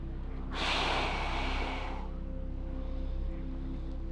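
A single deep inhale through the nose during a leg-strengthening exercise, close and clear, lasting about a second and a half over a steady low hum.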